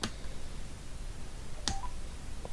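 A Sena 20S Evo 30K motorcycle helmet headset powering on: a sharp click at the start, then a short bright rising electronic chime near the middle and a soft final blip, heard alone over a quiet room hum.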